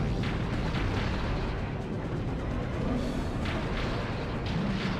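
A missile explodes in the mecha video game Robot Alchemic Drive, striking a building. A dense, sustained roaring rumble fills the whole stretch, loud and continuous, with no clear separate blasts.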